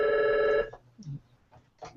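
A telephone ring sounds once, a bright electronic trill lasting about half a second, followed by quiet room noise with faint thumps and shuffles.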